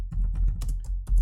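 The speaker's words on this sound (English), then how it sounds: "we're going to press Shift Enter on the keyboard" A few quick keystrokes on a computer keyboard, Shift and Enter pressed together, sound as close, low thumping clicks with no talking.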